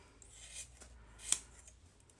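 Scissors snip through a Stampin' sponge, a few quiet close cuts with a soft rasping rub, one sharper snip near the end.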